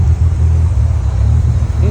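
A Honda Civic EG hatchback with a B-series engine running at a high idle, a loud, steady low rumble close by with no pauses.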